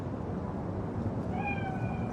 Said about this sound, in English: Chill, just a cat.